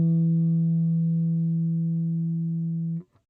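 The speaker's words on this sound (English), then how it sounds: "in addition to the octave harmonic" An open E string on a guitar sounds a sustained harmonic an octave above the fundamental, a pure steady tone ringing for about three seconds before stopping abruptly.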